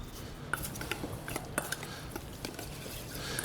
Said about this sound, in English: I have a little bit of my cumin and a little bit of chili powder, which I'm going to mix here